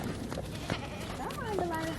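A goat bleats in a rising, wavering cry near a farm vet visit, heard over a person's coaxing voice and steady outdoor background noise.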